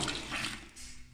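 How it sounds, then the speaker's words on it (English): Water poured on top, a short, continuous close splash and trickle lasting about a second. "Pour another little bit of water on top,"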